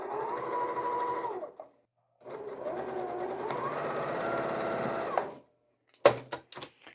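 A sewing machine stitching quilt pieces together runs in two steady bursts separated by a short pause, followed by a few sharp clicks and knocks as the work is handled; no talking.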